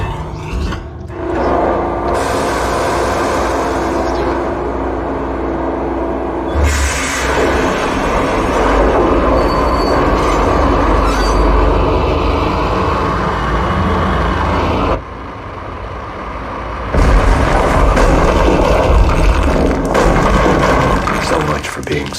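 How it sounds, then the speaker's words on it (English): A train crash in the video game Max Payne Remastered, loud rolling rumble and roaring rail noise with metallic clatter that cuts off briefly, then surges back, close and continuous, with speech mixed in. "Let's ram the train."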